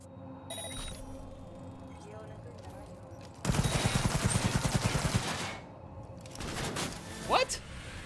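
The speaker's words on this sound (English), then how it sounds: "Why did my gun shoot?" Rapid automatic gunfire in Cyberpunk 2077, a dense burst of shots lasting a couple of seconds, loud and close over game ambience, followed by rumbling and a brief rising tone.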